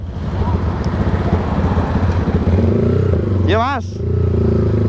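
A motorcycle fitted with a newly set mini carburetor rides along, its engine droning steadily and close with wind buffeting the microphone; a brief voice speaks and a horn-like rising-falling tone cuts in near the end.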